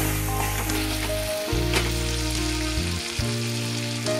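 Ingredients sizzle steadily in a hot pan while a gravy base fries, a loud continuous crackle and hiss with occasional stirring scrapes, no voices.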